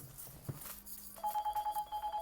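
A telephone rings with a rapid pulsing electronic trill, close and steady, cutting in during a talk about perm waving.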